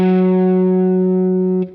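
An electric guitar with a distorted tone plays the opening of a lick an octave down from the 9th fret of the 5th string. A single loud note sustains evenly for under two seconds, then is cut off, with no talking.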